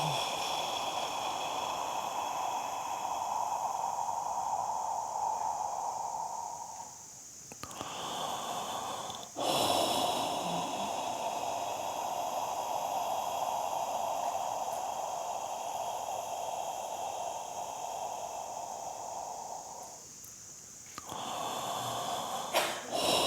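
Deep breaths taken slowly during a guided meditation session: long, steady breathy exhalations with brief pauses between, close and soft, with no talking.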